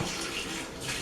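Tap water runs steadily into a kitchen sink while hands are rinsed during meatball rolling, a close, continuous splashing rush.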